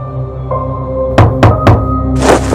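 Three loud, close knocks on a house door at night, evenly spaced, thudding over a quiet background with a soft tonal hum, followed by a brief rustle.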